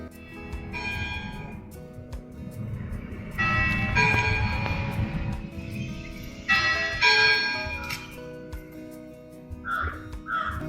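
Clock chimes ring from the tower belfry of St. Andrew's Church, a Presbyterian church in Scottish style, sounding in several separate ringing strokes over a low outdoor rumble, with crows cawing faintly near the end.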